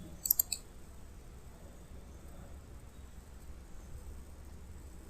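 A computer mouse clicks the Save As button in Microsoft Word, giving a quick run of sharp clicks at the start and one more at the end over a faint steady hiss.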